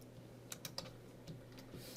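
Faint clicks from a computer keyboard during C++ coding, a few quick keystrokes in a short cluster, then sparser taps over a quiet room hum with no speech.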